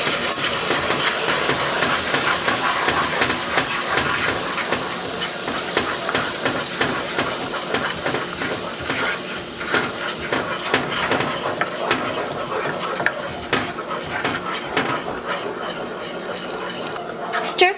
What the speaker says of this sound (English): Now we're going to add the spiced orange juice to it.